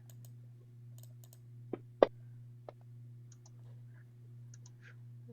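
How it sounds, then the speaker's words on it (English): A few sparse clicks on a computer keyboard, three distinct taps with the middle one loudest, set against a faint steady electrical hum and small quiet ticks. "I'm clicking the wrong keyboard"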